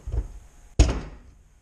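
A single solid thunk as a Mustang car door is shut, loud and close, with a short ring-off afterward and a faint rustle just before it.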